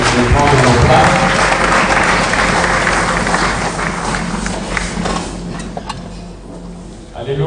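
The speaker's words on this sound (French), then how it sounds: "Nous pouvons encore acclamer avant de prendre nos places" A church congregation at a Sunday service applauds and acclaims in a loud, dense, sustained wash of clapping mixed with voices, easing somewhat toward the end.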